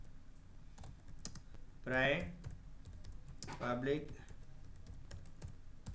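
Keys clatter quickly as someone types on a computer keyboard in MS Word, the soft close clicks running through a person's brief spoken words.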